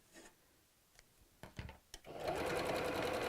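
Sewing machine stitching a fabric Easter bunny door hanger, a few soft taps and clicks giving way to a steady, close mechanical whirr.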